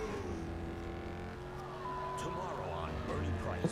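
A car races along a highway during a chase in the Gangstar Vegas video game, its engine droning steadily with a sharp knock near the end, while a voice talks over the driving.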